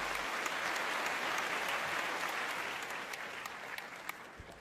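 An audience at a conference celebrating Asian brand leadership bursts into sustained applause, dense and even, easing slightly toward the end with a few sharper claps standing out.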